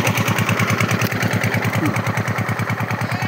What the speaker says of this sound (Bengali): এই স্যালো মেশিন চলছে